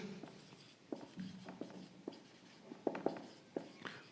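Chalk or marker strokes on a board during a Class 10 maths lesson: quiet scratchy taps and short scrapes in an irregular rhythm, close and faint, with no talking.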